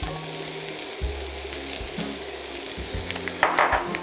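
Diced yellow onion sizzles in hot olive oil in a pan, a steady close frying hiss broken by occasional clinks and scrapes of a stirring utensil.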